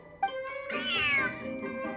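A video-game cat in a fortress-themed feline event lets out one clear, drawn-out meow with a rising then falling pitch, close and prominent over a faint background hum.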